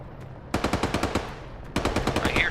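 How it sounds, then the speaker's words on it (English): Rapid bursts of automatic gunfire in the military video game Arma 3, two fast rhythmic volleys of close, punchy shots separated by a brief pause, then a second burst running to the end. "I hear shots to the south"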